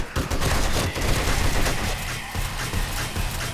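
Gunfire in the video game 7 Days To Die rattles out as a dense, close fusillade of shots that keeps going through the clip, easing off slightly near the end.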